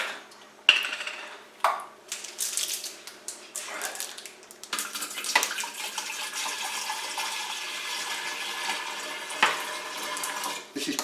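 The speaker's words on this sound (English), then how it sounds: "we're going to pour, I don't know, about a third of this water in the pinter" Water poured from a jug into a Pinter 2 beer brewing keg, a splashing, gurgling stream running steadily for several seconds after a few clinks and knocks of handling.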